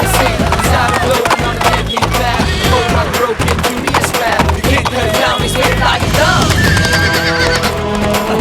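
A horse neighs and whinnies amid dense, loud, continuous sound throughout, with what may be hoof clatter mixed in and no clear speech.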